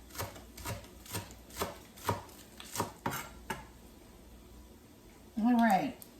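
A knife chops green onions on a cutting board, about a dozen steady, evenly spaced taps, close and moderately loud, then the chopping stops and a voice speaks briefly at the end.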